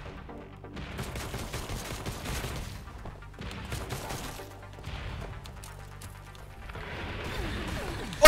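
Gunfire in the action game ANNO: Mutationem, with bursts of shots and crashing impacts repeating over several seconds, a game soundtrack underneath and a player occasionally reacting.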